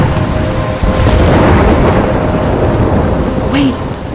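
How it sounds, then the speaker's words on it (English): Thunderstorm with steady heavy rain in the video game Life Is Strange, a dense continuous wash of rainfall with low rumbling thunder throughout and a brief tonal chirp near the end. "I'm trapped in a storm?"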